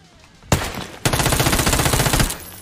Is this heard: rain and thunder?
no